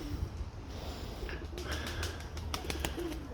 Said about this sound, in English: there's a lot of pigeons here, baby, especially for feeding